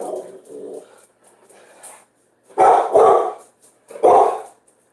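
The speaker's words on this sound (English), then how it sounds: "There goes the dog." A dog barks close by in a short series of loud, sharp barks, with quieter whimpering sounds before them and pauses of near silence between bursts.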